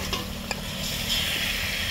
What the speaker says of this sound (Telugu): కలుపు ఆ బట్ట తీసుకొని పట్టుకొని కలుపు.